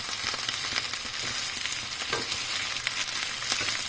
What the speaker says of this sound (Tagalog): mix it with the rice